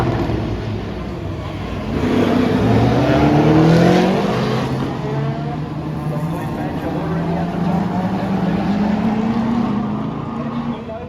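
Classic race cars, among them a 1958 Wolseley, drone past in a field, their engines swelling and fading as they pass with gear changes. A commentator talks over the engines throughout.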